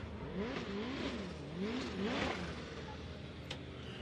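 Nissan 370Z with a heavily modified twin-turbo VQ engine making over 1,000 horsepower, revving in repeated rising and falling sweeps, moderately distant and steady, with no voices.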